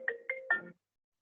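A small phone rings in three short electronic bursts, faint and brief, over a quiet room during a chemistry lecture.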